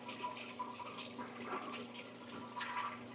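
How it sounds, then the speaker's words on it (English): Water runs from a tap to rinse acid out of an aeroponic grow tower, a faint, steady splashing trickle with small surges, no talk. "I have to rinse it off a couple times."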